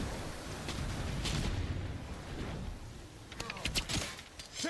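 Pillars of fire erupt in the video game Dragon Age: The Veilguard, giving deep booming blasts with a rumbling roar, then a burst of sharp cracking bangs near the end.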